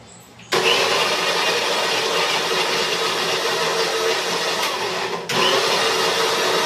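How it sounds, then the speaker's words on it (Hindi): A kitchen mixer grinder whirs loudly, grinding garlic, onion and green chilli, its motor kicking in abruptly, running steadily, dipping briefly, then restarting at full strength. "अब मैं इनको यहाँ पे पीस रही हूँ।"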